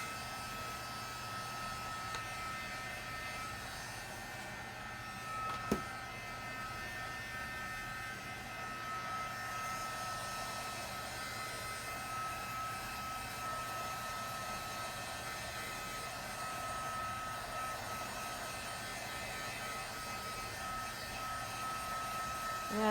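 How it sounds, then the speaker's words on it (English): A hair dryer or small craft heat gun blows a steady, even whir used to dry a craft piece, running continuously at moderate distance with one brief click partway through and no talking. "Or you can get a hair dryer or a little craft heat gun and dry it a little bit."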